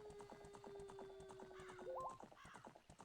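Epona gallops across Hyrule Field in Zelda: Ocarina of Time, a quick, even clip-clop of hooves running throughout with a brief neigh near the two-second mark, all quiet and with no voices.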